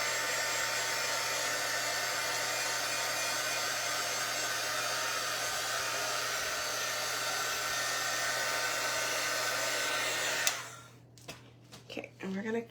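A hair dryer roars steadily and close up while drying white paint on a giant magnetic chalkboard, running for about ten seconds before it cuts off abruptly, then leaving a few faint handling noises.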